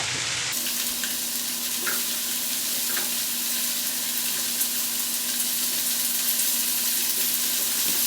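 Salmon fillet laid skin side down into a hot pan with browning garlic, giving a steady, close, even frying sizzle that runs unbroken throughout with no talking.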